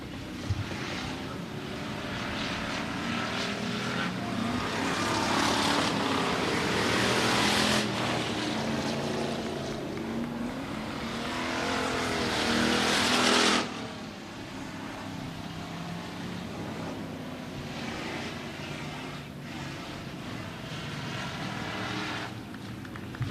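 Hobby stock and RaceSaver sprint cars race around Stuart Raceway, engines droning and swelling loudly as cars sweep past, with the roar dropping off sharply near the end before a steadier, quieter drone continues.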